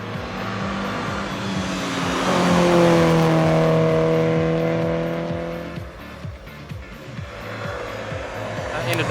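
A rally car on a loose gravel stage accelerates with its engine rising in pitch, loud and close, then easing off as it passes, with gravel and tyre noise and a hint of background voices.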